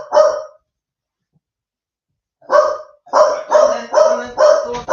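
Dogs bark loudly and close by: one bark, a pause of about two seconds, then a rapid run of five barks in steady rhythm.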